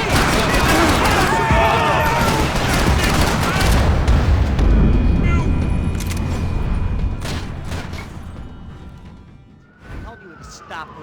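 Gunfire and explosive booms fill a shootout in Max Payne 3 against a cop, with shouting voices and a siren over dense, loud bursts that fade toward quiet scattered shots.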